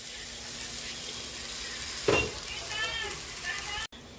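Broccoli frying in a seasoned pan sizzles steadily at a low level, with a brief scrape of stirring and a faint voice speaking behind it before the sound cuts off near the end.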